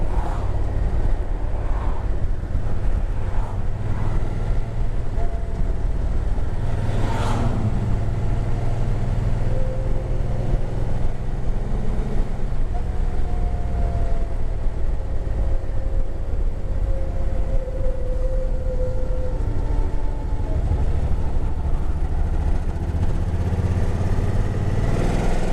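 A 2006 Suzuki Boulevard C90 cruiser rumbles along on a test ride, a continuous low engine throb mixed with wind noise, with a few shifts in pitch as the bike changes speed.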